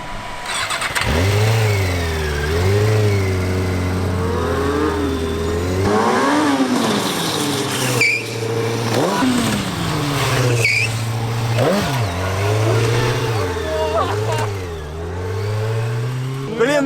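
A stunt motorcycle engine revs hard and repeatedly, rising and falling in pitch with a steady loud drone between the bursts, close by and continuous with no talk over it.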